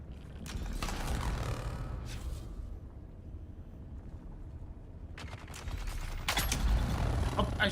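Bursts of energy-weapon fire from a lasgun in the game Dune: Awakening, with rapid clustered shots in two loud volleys separated by a quieter stretch of background game noise.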